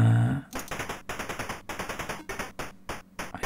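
Rapid bursts of gunfire from the Atari ST game Cannon Fodder, a dozen or so sharp repeated shots in quick rhythmic succession, loud and close, with no talking.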